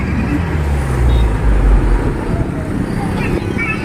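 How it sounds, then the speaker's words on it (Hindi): Heavy road traffic on a busy city street near a church, a continuous loud rumble of engines and passing vehicles, close and steady throughout. "तो ट्रैफिक बहुत ज़्यादा है"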